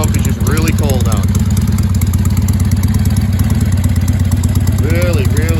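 A 1974 Harley-Davidson Sportster XLCH engine idles loudly and steadily up close on a cold day, with a rapid, even mechanical clatter and thumping exhaust pulse throughout.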